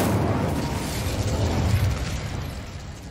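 In the video game Hogwarts Legacy, an Incendio fire spell bursts out in a loud, rumbling whoosh of flame with crackling pops that gradually fades over a few seconds.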